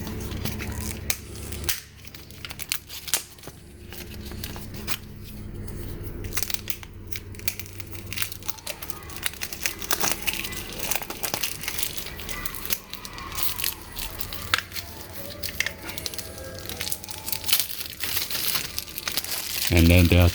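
A generic sticker for a Frigidaire Gallery refrigerator's filter is handled close up, producing steady crinkling, crackling paper and plastic noises throughout.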